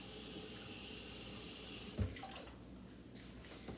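Tap water pours steadily into a cooking pot for rice, a dense rushing hiss that cuts off abruptly, followed by a clunk and faint handling sounds in a kitchen.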